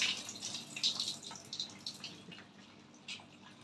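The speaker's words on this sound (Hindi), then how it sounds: "मैं गर्म पानी का यूज़ कर रही हूँ, आप भी गर्म पानी में इसको अच्छे से वॉश कर लेना" Frozen corn being rinsed in warm water, a soft, continuous close-up trickle and slosh with light drips and splashes, fairly quiet, no voices.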